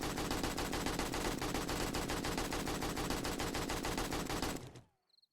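A modded gun in the video game 7 Days To Die empties a full magazine in a continuous rapid automatic burst, loud and dense, then cuts off abruptly into near silence.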